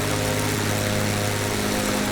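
Engine drone of a Rockwell Aero Commander 500S twin piston-prop aircraft in Microsoft Flight Simulator, a loud, steady, unchanging hum with layered propeller tones and no voices.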